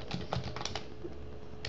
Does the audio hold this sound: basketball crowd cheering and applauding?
no